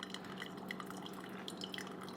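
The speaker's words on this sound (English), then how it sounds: "pour a little bit of this water in here to just soak the filter so that it's moist" Hot water trickling through a moistened paper filter in a Bodum pour-over coffee maker, a faint continuous patter of small drips into glass, quiet and close with no talking.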